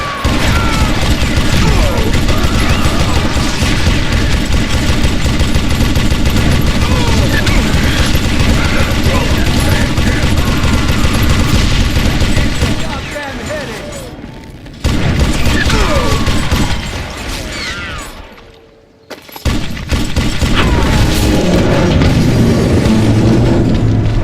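Heavy gunfire and booming blasts in the western shooter game Call of Juarez: Gunslinger, a dense continuous barrage with crashes that briefly drops out twice before resuming loudly.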